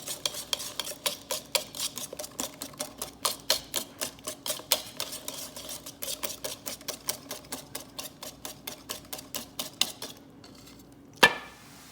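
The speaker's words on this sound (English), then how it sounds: "So you want to make sure you mix them while you add your melted caramel." A whisk or spoon beats eggs in a bowl while melted caramel is added for pecan pie, fast rhythmic clinking strokes against the bowl, close and steady, pausing near the end before one sharper knock.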